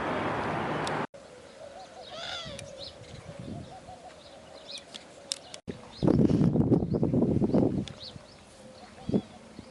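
Birds calling at a desert bird sanctuary, with dove-like coos and scattered chirps. A voice speaks briefly at the start, and louder rustling and movement pick up toward the end.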